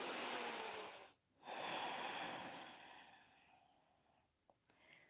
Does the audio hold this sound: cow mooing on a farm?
no